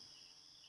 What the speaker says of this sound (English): You can hear the crickets